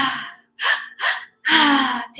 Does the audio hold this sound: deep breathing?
yes